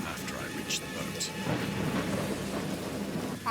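Thunderstorm in the video game Dagon, a low steady rumble with the hiss of rain, soft and distant, while someone speaks over it.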